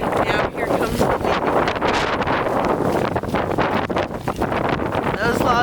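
Strong outdoor wind buffets and roars steadily across the microphone, a dense continuous rush with no letup, near and loud, at a fire-damaged property where smoldering logs and ash are being blown around.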